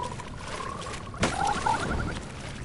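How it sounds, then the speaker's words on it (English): Poisoned frogs in the video game Mortal Shell croak in a rapid rhythmic series over a constant ambient hum, with a sharp impact midway and a couple of louder, brighter calls after it. "an army of like these poisoned frogs shows up"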